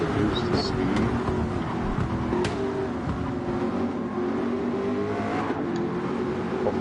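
A Nosscar race car in an 8-hour Daytona racing game cruises around the track at reduced speed, its steady engine drone continuous and fairly loud throughout, with a few brief higher-pitched tonal blips.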